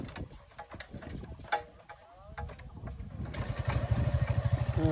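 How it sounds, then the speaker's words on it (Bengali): A motorcycle with a weak battery self-starts, its electric starter whirring into a rapid, steady idle chug that grows louder and holds, close by, after a stretch of quieter background noise. "সেল স্টার্ট হয়ে গেছে।"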